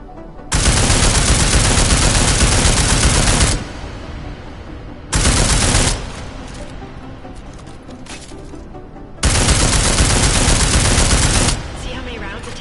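Sustained automatic gunfire aimed at an armored target in a video game, arriving as three loud, dense bursts of rapid shots separated by quieter gaps carrying faint background noise.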